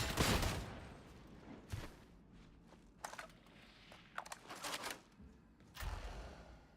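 Autogun fire in Warhammer 40,000: Darktide: several short, rattling bursts of rapid shots spaced across the moment, fairly quiet overall with a few sharper thumps between bursts.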